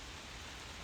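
Steady rain falls outside in a continuous, even hiss, close and moderately loud, with no voices over it.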